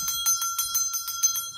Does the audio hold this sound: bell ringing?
yes